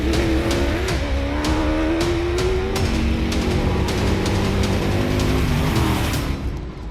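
At the Bronkhorstspruit 400 gravel road race, race cars and a Toyota Hilux accelerate from the start, their engines revving hard and close in a loud continuous roar with rising pitch and gravel crackle.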